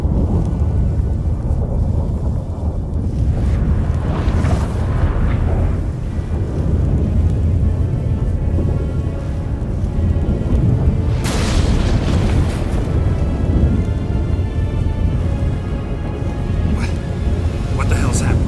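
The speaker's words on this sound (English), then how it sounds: "That a storm?" Rolling thunderstorm rumble in The Witcher 3 as the gate between worlds opens, a loud, sustained low roar with sharp booming surges, overlaid with dramatic game music and sound effects throughout.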